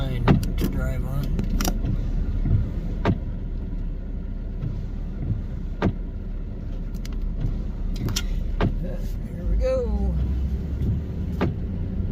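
An SUV drives along a narrow strip of Padre Island beach at high tide, its road rumble and wind noise steady throughout, with occasional clicks and bumps and a person speaking over it.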